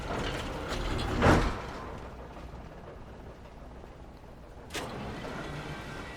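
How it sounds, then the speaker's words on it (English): A cable car in Alan Wake Remastered clanks and rattles mechanically, with a loud metallic jolt early on and a second sharper clunk later over a steady running drone. "Another cable car."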